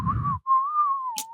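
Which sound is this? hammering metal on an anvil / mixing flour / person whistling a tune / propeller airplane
person whistling a tune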